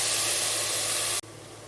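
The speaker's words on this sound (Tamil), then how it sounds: "இது கூடவே இஞ்சி பூண்டு பேஸ்ட்டையும் போட்டு தேவையான அளவு உப்பையும் போட்டு நல்லா வதக்கிக்கலாம்" Loud steady sizzling hiss of ginger garlic paste and salt sautéing in a hot pan, cutting abruptly to a quieter simmering hiss near the end.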